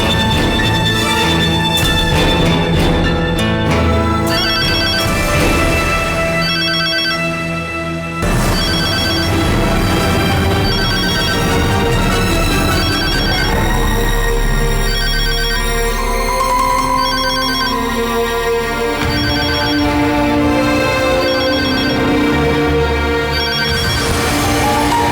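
A loud electronic ringtone melody repeats steadily for the whole stretch in a Tamil television serial scene, bright and continuous with no one speaking.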